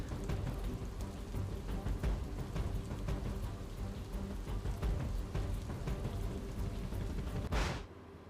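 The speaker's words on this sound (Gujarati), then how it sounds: "વીજળીના કડાકા ભડાકા સાથે વરસી રહ્યો છે વરસાદ" Heavy rain pours over Ahmedabad during a thunderstorm, a dense, steady roar of downpour with low rumbling underneath, ending in a short whooshing swell.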